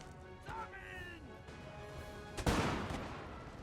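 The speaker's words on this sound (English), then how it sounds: "Look at this line of dudes all firing." A line of infantry fires muskets in a Napoleon Total War battle, a sharp crackling volley bursting out near the end over a steady background of distant battle noise.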